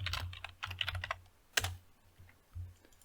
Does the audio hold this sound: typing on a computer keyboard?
yes